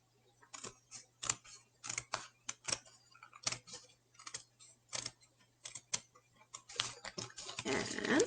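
Scissors snipping paper while cutting along curved edges for a shark craft, a series of quick crisp snips in irregular bursts, close and fairly quiet, with no talk.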